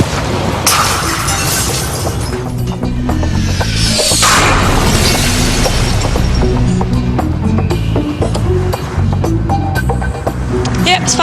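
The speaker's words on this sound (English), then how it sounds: "I'm going to drop a tile about the same size as the ones on the Opera House from more than 10 metres." A roof tile, the size of those on the Sydney Opera House, dropped from over 10 metres onto a pane of glass, with clattering impacts and rattling over a loud, busy background.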